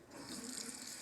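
Water from a tap runs steadily into a sink during handwashing and brush rinsing, a continuous close hiss with no voices.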